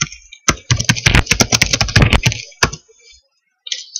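Fingers type quickly on a computer keyboard into a Notepad window, making a close burst of crisp clicks and key taps. A single loud clack follows, then a pause, then a few more keystrokes.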